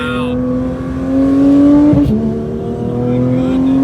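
Porsche GT3 engine pulling hard from inside the cabin, a loud steady tone rising in pitch with a quick shift blip midway, while people talk excitedly over it.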